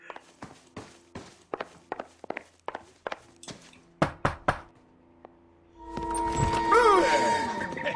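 Several rounds of firm, evenly spaced knocks on a door in the video game L.A. Noire, close and distinct, followed by a swelling burst of louder game sound near the end; no voices.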